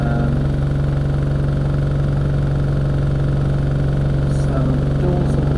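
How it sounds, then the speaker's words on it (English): A bus engine idling just after starting, a loud, steady low rumble with an even throb throughout, and faint clicks and small sounds near the end. "engine's just started"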